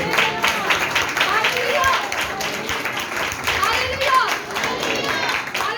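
A church congregation claps loudly during a sermon on the seven last words of Christ on the cross, a dense steady patter of many hands under continuous shouted praise from a preacher.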